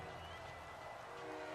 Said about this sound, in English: As you see the train horn will sound